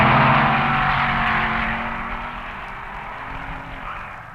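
A 409 cubic inch Chevy Super Stock roars off against a Ford at the 1961 NHRA Winternationals drag races, loud sustained engine howl fading slowly as the cars pull away, no voices.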